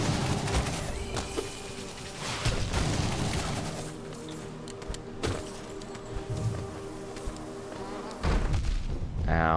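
Big bees in the video game Hollow Knight buzz loudly, a dense droning hum mixed with game thuds and a heavy impact near the end.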